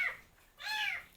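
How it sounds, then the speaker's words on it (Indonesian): A stray kitten meows twice, first with a short high call and then, after a pause, with a longer drawn-out mew. Both calls are fairly faint and close, over a quiet background. "ada suara kucing"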